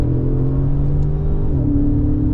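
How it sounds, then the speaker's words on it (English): Engine of a 2016 Mercedes-Benz S550 Coupe (C217) with Renntech tuning drops into second gear, a close, loud steady drone whose pitch steps down partway through. "Right now I'm slowing down to second gear"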